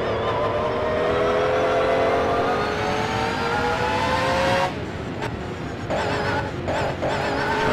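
Jaguar race cars at the Spa circuit roar loudly through a right-left combination, engine tones rising steadily before cutting off abruptly near the five-second mark, leaving quieter track ambience with brief bursts.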